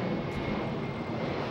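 Aircraft engine roar rises over the two southern runways at Los Angeles International Airport, a steady, broad rumble that holds at even loudness throughout with no voices.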